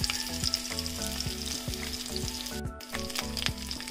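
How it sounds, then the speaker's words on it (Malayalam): Onion, cumin and ginger garlic paste sizzle and fry steadily in a pan for Kerala-style dhal gravy, a close, continuous crackling hiss with occasional stirring and no voice. "അതിലേക്ക് ഗാർലിക് പേസ്റ്റ് ഇട്ട് കൊടുക്കുക ആ 1/2 സ്പൂൺ ഗാർലിക് പേസ്റ്റ് എന്നിട്ട് നന്നായിട്ട് മൂപ്പിക്കുക"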